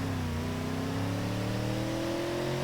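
A D-Series pickup truck in BeamNG.drive holds a steady, droning rev, its engine note climbing slowly in pitch and staying loud and even throughout.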